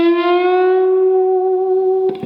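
A distorted electric guitar holds a single sustained note bent up a whole step at the 9th fret of the G string, ringing steadily and loud for about two seconds before a brief pick scrape at the end.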